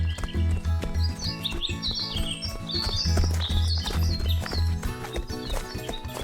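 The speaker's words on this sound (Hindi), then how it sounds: "खुशबू इतनी थी कि जंगल के पंछी भी पास मंडराने लगे" Forest birds chirp in quick bursts of high tweets near a village wedding feast, heard over rhythmic background music with a thumping beat, with no speech.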